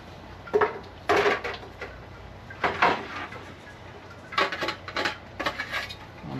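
A metal lid comes off a crab-boiling pot, several clattering, scraping metallic clanks in uneven bursts separated by quiet gaps, close by and moderately loud.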